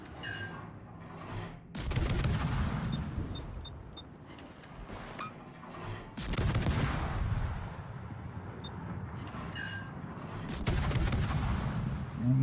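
Naval gunfire in the World of Warships game, with several heavy booming salvos and bursts of shots rolling through a steady din of battle, loud and repeated across the stretch.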